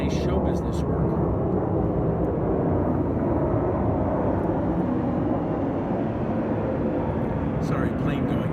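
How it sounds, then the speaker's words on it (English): An airplane passes overhead outdoors, a broad, continuous rumbling roar that stays loud and steady for the whole stretch, with a few faint clicks near the start and end. "plane going over. It's getting loud."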